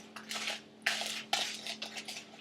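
Eggs are mixed into cupcake batter in a bowl, with a utensil clinking and scraping against the sides in quick, uneven strokes, close and fairly quiet, with no talking.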